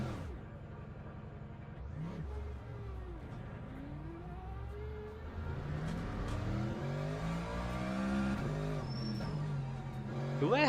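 An LMGT3 race car spinning out in the racing game Le Mans Ultimate with worn rear tires, engine whining and revving through shifting pitch, then rising toward the end, steady and moderately loud.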